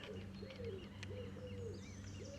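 Seagulls call in short rising cries over a lakeside fishing spot, faint and somewhat distant above a steady low hum of background noise.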